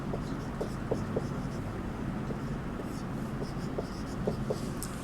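Chalk or a marker taps and scratches on a board in short repeated strokes, faint beneath a steady room hum and some muffled voice.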